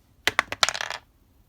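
A quick clatter of dice rolled onto a tabletop during a historical wargame: a few sharp separate knocks, then a short rattling tumble that settles within about a second, close and fairly quiet.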